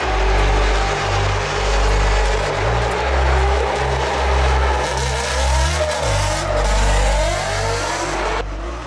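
A Formula Drift Pro-Am drift car runs at full throttle, its engine roaring loud and steady close by with a brief dip and a surge back near the end, over a constant broadband rush.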